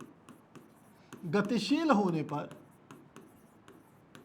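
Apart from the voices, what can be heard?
writing on a board while teaching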